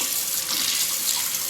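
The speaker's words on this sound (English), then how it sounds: "So I'm going to add a little bit of warm water up to about the line." Warm water runs steadily into a cup for about a second and a half, a continuous close splashing stream with no talking over it.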